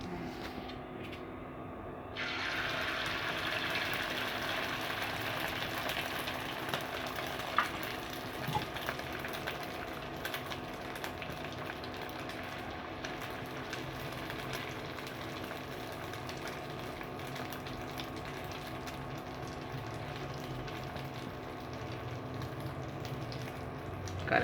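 An egg fries in hot oil on an induction cooker, a soft, steady sizzle that starts after a short quiet moment and keeps a faint, even hiss.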